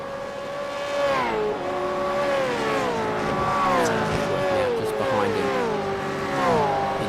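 A V8 race car in iRacing rounds a hairpin at Long Beach, its engine note steady and loud, dipping and rising as the driver lifts and reapplies throttle, close and continuous.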